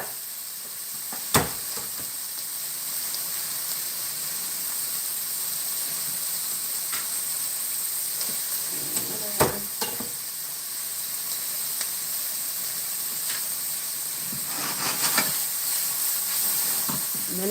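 Garlic sizzling in hot oil in a cooking pan, a steady close hiss of frying with a few sharp pops and crackles scattered through.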